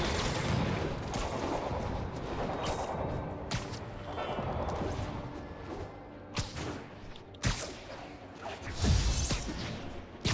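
Gunfire in the Marvel's Spider-Man video game, a chaotic run of sharp shots and bursts, some rapid and some isolated cracks, loud and close amid ongoing game noise.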